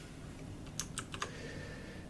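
A few scattered key presses on a VAVA mechanical gaming keyboard, sharp clicks rather than a run of typing, faint against a low background hum.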